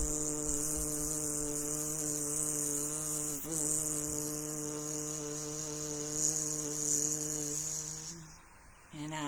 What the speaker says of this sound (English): Inhale and buzz the air out.